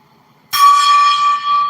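A single gong strike for energy cleansing, a sudden loud attack followed by a bright, shimmering ring that sustains and slowly decays.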